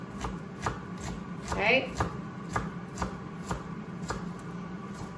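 A knife chops red onion for a chicken salad on a cutting board in a quick, even rhythm of close, crisp knocks. A person briefly speaks.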